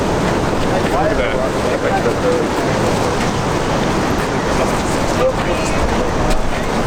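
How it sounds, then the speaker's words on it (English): Cold wind blows across a boat out on the water near a city, a loud steady rushing roar buffeting the microphone with wave noise beneath, and people talking over it. "That wind is gorgeous. It's freezing."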